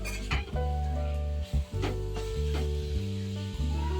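Carrot halwa stirred in a steel pot over low heat: a dense, continuous scraping and sizzling texture with repeated ladle strokes and brief metallic clinks, close up, with no talking.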